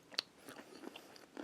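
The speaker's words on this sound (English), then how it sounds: "Although it's getting better as I'm chewing it." Someone chews a sugar-coated marshmallow up close: soft, sparse, slightly wet bites and crunches in irregular bursts, quiet with no talking.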